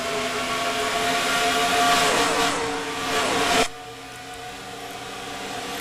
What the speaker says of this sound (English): Now he's getting behind Dylan Young